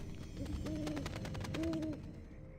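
An owl hooting in the Warcraft 3 video game, two soft, clear tonal hoots in succession over a low ambient game background.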